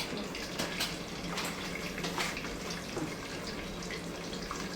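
Rice being rinsed under a running tap in a home kitchen while vegetable pulao is prepared: a steady, close rush and splash of water with small irregular spatters, no voices.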